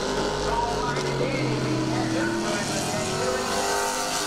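Street stock race cars roar around the Southern Speedway oval in a steady, dense engine drone under an announcer's continuous commentary.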